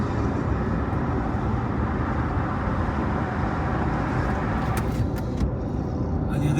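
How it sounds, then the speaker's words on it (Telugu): A McLaren P1 supercar driving past on a road, a steady loud roar of engine and tyre noise blending with surrounding traffic, fading slightly toward the end. "ఎదురుగా చూడండి మెక్లారెన్ కార్ వెళ్తుంది"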